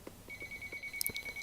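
A purple toy telephone rings with a thin electronic tone that holds steady before a pair of brighter beeps, close and fairly quiet, with soft handling knocks underneath.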